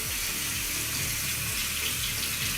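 Water runs steadily from a tap over a plastic eyelid cleaning brush, a continuous close splashing rush with no pauses.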